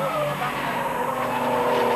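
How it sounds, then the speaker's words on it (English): A Porsche race car in a 1989 Porsche Club GB Championship race weaving and skidding, with loud sustained tire squeal and engine whine close by, pitch wavering over two seconds. "Williams tries to come back, the car weaves, it's corrected,"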